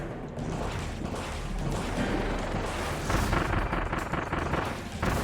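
Bombs exploding during a boss fight in the video game Kirby and the Forgotten Land, with a continuous din of booms and impacts building to louder blasts toward the end.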